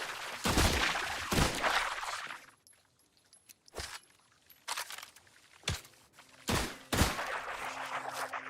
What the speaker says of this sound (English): Shotgun.